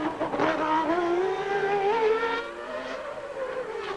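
Ayrton Senna's Formula 1 car screams through qualifying at Adelaide in 1990, its engine held flat out without a lift, a loud sustained high-pitched wail with rising harmonics and no talking over it.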